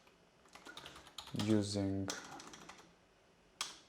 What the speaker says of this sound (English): I'm typing a little bit faster than usual today